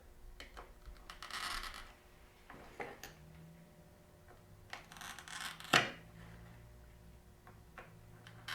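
Stained glass corners being snipped off with a clipper, giving a few sharp isolated snaps and clicks, the loudest crack near the end, separated by quiet pauses without talk.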